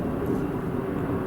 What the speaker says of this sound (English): It was a plane.